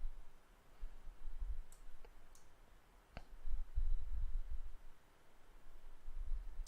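A computer mouse clicks a few times, sharp isolated ticks spaced out across a quiet background with faint low rumble between them.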